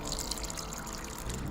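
Hot water from an electric kettle is poured over Kakonto ginger powder in a cup in the video game Chaos;Child, making a continuous close splashing trickle that runs briefly without pause.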